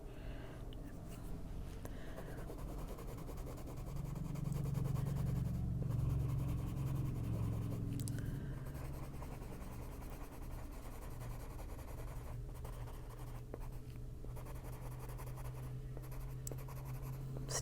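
A gray lavender colored pencil shading paper in an adult coloring book, with continuous close, soft scratchy strokes that go on for many seconds in a steady back-and-forth rhythm, a little louder in the middle and with no voices.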